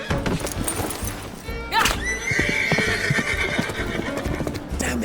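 A horse whinnies loudly in a busy street chase through a market, its shrill neigh rising over clattering hooves, thuds and bustle, with voices shouting nearby.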